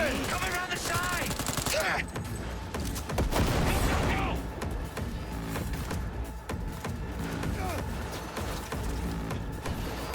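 Heavy automatic gunfire rattles through a Cyberpunk 2077 shootout, with dense bursts and sharp cracks that stay loud and continuous, along with shouted voices.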